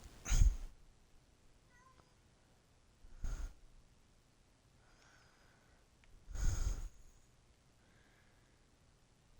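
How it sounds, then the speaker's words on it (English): Two house cats squabble indoors: three sharp, loud bursts of hissing or yowling, spaced a few seconds apart, with faint chirps and near silence between them. "my cats like to argue sometimes"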